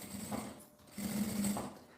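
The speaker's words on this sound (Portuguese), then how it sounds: "passo uma costura na beiradinha aqui embaixo" An electric sewing machine stitches along the bias binding edge of a small fabric phone pouch, its motor humming in two steady bursts with a short pause between, close and moderately loud.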